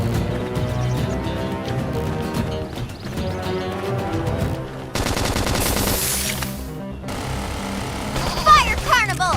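Rapid video game gunfire in Xenoblade Chronicles X, bursts of automatic shots mixed with music, battle effects and voices calling out during combat.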